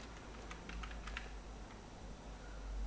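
Keys clacking on a computer keyboard while text goes into an Excel spreadsheet, a quiet, brief burst of light taps over steady background hiss.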